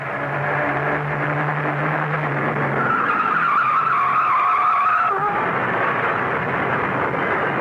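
A car tire squeal and skid as the vehicle swerves off the road to dodge a truck, loud and sustained for several seconds, with engine roar and a rising screech that cuts off abruptly near the end.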